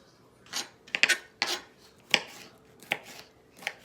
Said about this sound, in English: I'm gonna cut the rest of this green pepper up